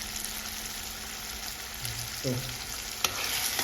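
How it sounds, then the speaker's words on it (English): Breadfruit and dumplings fry in oil in a pan for a Jamaican dinner, a steady low sizzle under the scrape and clink of a utensil, with a word spoken briefly. "You can see the breadfruit and the dumpling cooking."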